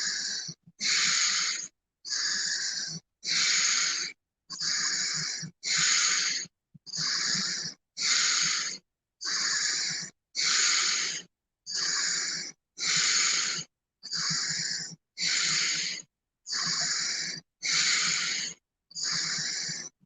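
Deep rhythmic breathing in a guided breathwork session, about fifteen strong, hissing breath cycles in steady succession, each inhale and exhale close and loud with short gaps between, no talking.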